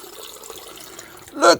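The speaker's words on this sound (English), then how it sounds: "pouring it back and forth between two vessels here" Hot chocolate poured back and forth between two vessels, a soft steady trickle that swells into a louder gush near the end.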